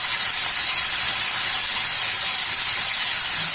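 Masala spices frying in oil in a home kitchen pan while being stirred, a loud, continuous bright hiss and sizzle that stays even throughout, with no talking.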